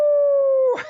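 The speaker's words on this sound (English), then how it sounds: "Can I see if I can get my dog to come and bark?" Coco, a pet dog, gives a loud, close, sustained howl on one steady pitch that breaks off at the end into a short rough whimper.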